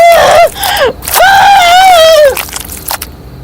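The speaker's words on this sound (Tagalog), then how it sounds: "pumunit ang makapanindig balahibong tili ni Noreen sa buong kabahayan" A woman in a horror tale about an aswang mansion lets out loud, piercing screams, a short wail and then a longer sustained shriek that bends downward, followed by ragged gasping.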